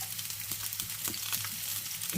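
Onion slices caramelizing in hot oil, a steady close sizzle with crackling pops and occasional stirring scrapes, alone with no talk.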